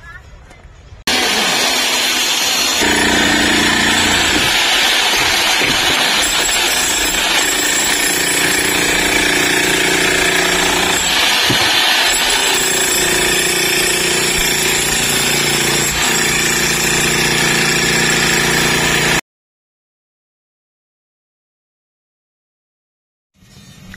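A borewell drilling rig with its bit grinding into the ground at a house site, a loud, continuous harsh roar and rattle that holds steady for about eighteen seconds, then cuts off abruptly into silence.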